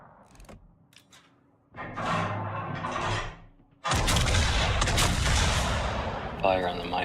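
Heavy naval guns firing armor-piercing shells in World of Warships, a deep sustained roar of salvos building to a loud boom, with someone talking over the gunfire.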